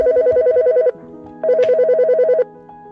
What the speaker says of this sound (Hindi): एक दिन मुझे एक कोलीग का फ़ोन आता है